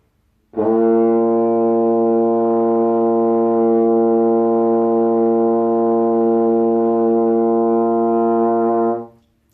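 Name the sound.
trombone playing a B flat note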